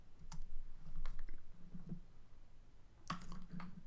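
Computer keyboard typing ending in an Enter press, scattered light clicks and taps at close range over a low background hum, one firmer keystroke near the end.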